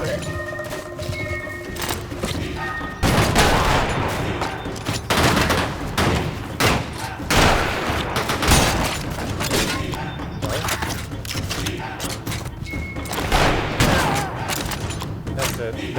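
Dense, loud gunfire in the Western roguelite video game Colt Canyon, with rapid overlapping shots in clustered bursts throughout and a voice occasionally speaking over the action.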